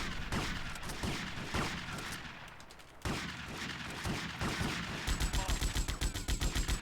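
Shotgun and other weapon fire in a competitive shooter match form dense, continuous volleys of loud blasts, ending in a rapid regular string of close shots.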